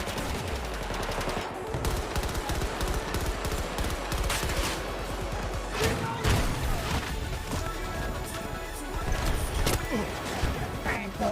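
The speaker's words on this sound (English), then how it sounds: "Firing bullets up there, see if I can maybe hit something." Gunfire from a horror video game, a dense run of rapid shots fired upward, close and loud throughout, with a person talking over it.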